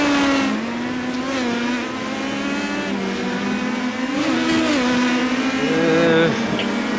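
Race cars in the iRacing sim at Laguna Seca, engines wailing and rising and falling in pitch as they rev through gears, loud and continuous, with commentators talking over the racing.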